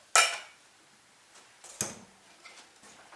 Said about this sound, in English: tip our spaghetti in, mix that pesto right through